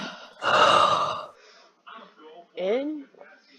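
A young man draws a loud, deep breath in, a long breathy gasp lasting about a second, followed by quieter breathy sounds and a short vocal moan.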